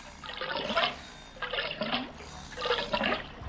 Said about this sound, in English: draining the blood